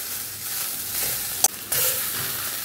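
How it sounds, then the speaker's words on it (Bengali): Vegetables fry in a pan for a noodle dish, a steady broadband sizzle with a sharp clatter near the middle and louder bursts of frying after it. "এই ভেজে ভেজেই কিন্তু আমি সবজিগুলোকে রান্না করব"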